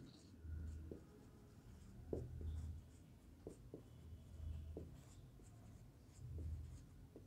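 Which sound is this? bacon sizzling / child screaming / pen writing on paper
pen writing on paper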